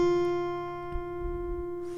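A single plucked guitar note on the high E string, first fret, rings out clearly and sustains evenly, with a faint handling noise near the end.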